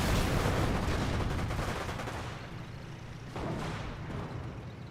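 Battle gunfire in the Company of Heroes video game, a dense rolling barrage of shots and blasts that fades and then surges again.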